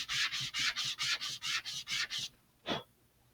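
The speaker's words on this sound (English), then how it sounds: "I'm going to just sand them all down so they're hopefully the same size" Sandpaper rubbing back and forth across small laser-cut wood parts for a vintage Estes Super Vega model rocket, nine quick even strokes in a steady rhythm, close and clear, then a pause and one last lighter stroke.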